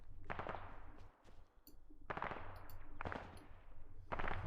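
Bursts of automatic gunfire in a military video game, loud and close, coming in several separate volleys with short gaps, no talking.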